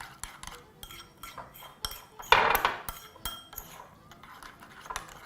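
Yogurt and cucumber tzatziki is stirred in a bowl, with a utensil clinking and scraping against the sides in an irregular rhythm and one louder clatter partway through, no speech.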